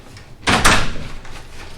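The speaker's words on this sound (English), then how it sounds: "this door closing is really loud" A door slams shut once, loud and close, with a sharp hit and a brief rattle that fades into a quiet room, no voices.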